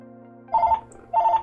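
A mobile phone rings in a room with two short bursts of a bright electronic trill separated by a pause, close and fairly loud over a faint steady hum.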